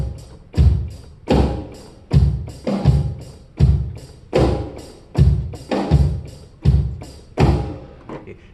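A drum kit plays a steady pre-chorus groove, with a loud, punchy double snare hit recurring about every half second, each hit backed by a deep kick thump and sharp attack, with no voices over it.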